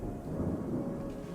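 Thunderstorm rolling in within the video game Terra Nil, a low, steady rumble of thunder with rain hiss, moderately loud and continuous without a break, with no voices over it.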